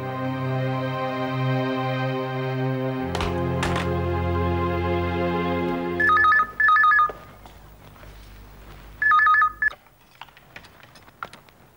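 A mobile phone call rings out as two short bursts of warbling electronic tone a few seconds apart, loud and clear, coming after a sustained musical passage, with no talking.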